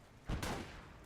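A burst of gunfire rings out in the World War II game Gates of Hell, a quick volley of shots emptying a magazine, faint and muffled over low background noise.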